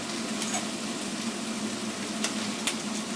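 Food sizzles and fries in a pan as it is stirred during evening cooking, a steady close hiss with a few soft scraping strokes.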